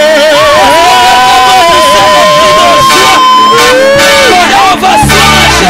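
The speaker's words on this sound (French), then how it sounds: "Est-ce que quelqu'un peut pousser des cris de joie pour Jésus?" A loud New Year's Eve church crowd shouts and whoops with joy for Jesus, a dense, sustained roar of voices with overlapping tonal cries and no break.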